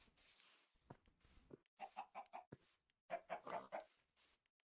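Chickens cluck in a small forest meadow in Minecraft, a run of short choppy clucks in two bursts with brief pauses, fairly faint and unaccompanied by talk.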